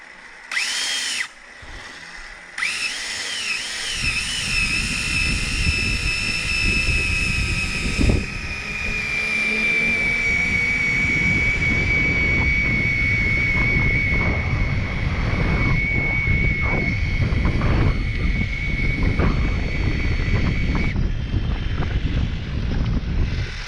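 An electric motorcycle's motor spins up after a few clicks, then holds a loud, steady, high-pitched whine with a rough mechanical rattle beneath it, running continuously up close.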